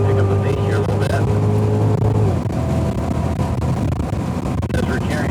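Cadillac CTS-V cars run on the COTA track, a loud steady engine drone with a strong low tone that shifts pitch partway through, continuous throughout and heard under talk.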